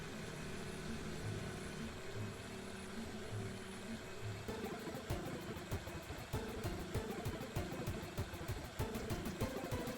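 Engine of a car in a driving game, droning steadily and quietly, then turning into a rhythmic pulsing revving pattern partway through, with no voices.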